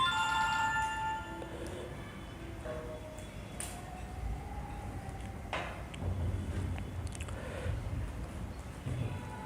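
A mobile phone ringtone chimes briefly in a room where a religious discourse is under way, a short melodic ring at the start fading into quieter background noise and faint clattering.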